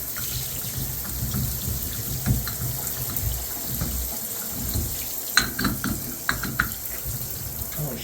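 Water runs from a faucet during a three-handle Price Pfister shower manifold rebuild, a steady broadband hiss of flow with a few brief splashes and clinks, somewhat close and moderately loud.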